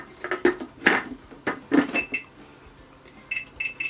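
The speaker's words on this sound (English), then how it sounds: "Oh, put the lid on." A plastic lid snaps and clicks onto a kitchen mixing container in a few sharp knocks, followed by faint bright rattles, with no voices.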